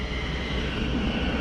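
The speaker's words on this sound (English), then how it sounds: "There's a train pulling in there now." A train pulls into a station along the River Lea, a steady, close rumbling roar with broad low-end noise that holds constant through the short stretch, with no voices.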